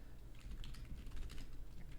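Rapid, continuous typing on a computer keyboard, close and steady over a low background hum, with no talk.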